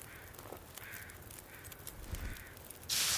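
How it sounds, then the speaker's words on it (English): Crows cawing in a snowy wilderness in the survival game The Long Dark, several harsh calls spaced across a steady wind-like hiss, moderately distant, with a louder gust of noise rising at the end. "Oh, the crows are out"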